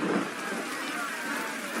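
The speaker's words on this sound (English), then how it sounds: "Then, out of nowhere, a devastating storm hit Egypt." Steady rain pours in a storm scene from the game Adventures of the Old Testament, a dense, even hiss of downpour with a low rumble near the start, loud and continuous with no talking.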